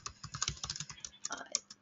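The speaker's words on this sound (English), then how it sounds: "my typing's all over the place" Fast, uneven typing on a computer keyboard, a busy run of close, crisp key clicks with a brief pause before a final few taps.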